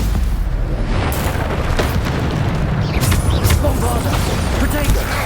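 Repeated Bombarda spell blasts in the video game Hogwarts Legacy, booming bursts thudding one after another in a dense, loud spell-combat barrage with no clear gaps.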